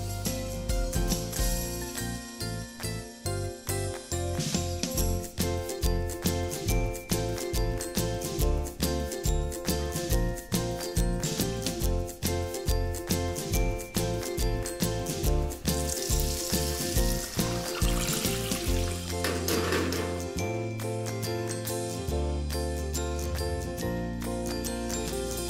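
Alpaca tenderloin in tempura batter sizzles loudly in a deep fryer, a dense bubbling crackle with rapid rhythmic pops and jingly clatter, close and steady throughout, with no voices.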